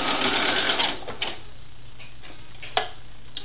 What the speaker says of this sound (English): we're just going to sew that all the way down